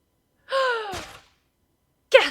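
A sharp voiced gasp from The Great Ace Attorney Chronicles, a rising breathy cry that trails off, followed after a pause by a second brief burst, isolated against silence.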